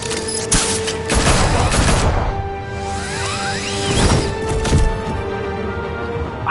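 Rapid bursts of gunfire in Batman: A Telltale Series, loud and close, with a heavy volley, several sharp separate shots and whooshes between them, and no talk.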